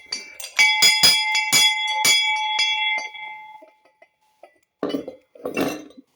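The tallest of a collection of large bells rings out on its A5 note, struck several times in quick succession, bright and close, then left to fade, followed by two shorter rattling knocks.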